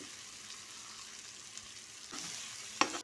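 Cauliflower and potatoes sizzle and fry in a pan while being stirred, a steady close crackle with a brief louder scrape of stirring near the end.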